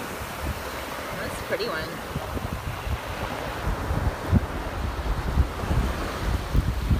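Ocean waves wash over a shell-strewn beach in a steady windy rush, with a voice speaking briefly over the surf.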